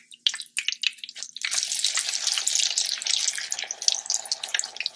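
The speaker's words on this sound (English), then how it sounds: "We're now repeating the process on the other side of the latke, waiting to achieve a nice golden brown fry" Grated potato latkes frying in hot oil, a few sharp spatters at first, then a dense, loud sizzle that crackles on steadily.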